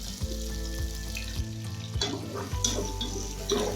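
Steady sizzling of onions frying in oil in a pan, with a few soft stirring clatters and a faint splash of water; no talking.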